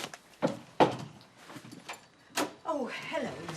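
A front door is answered and opened, giving a few sharp clicks and knocks of the latch and door among people talking nearby.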